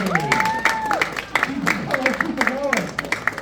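Comedy show crowd in Yakima applauding and cheering at a steady roar, with a host talking loudly over the clapping.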